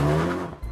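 An animated car drives off fast, its engine revving loud and close for a brief moment before the roar quickly drops away.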